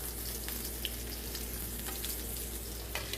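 Pork loin searing in a really hot pan with fat, a steady crackling sizzle with scattered sharp pops, moderately quiet and continuous with no talking.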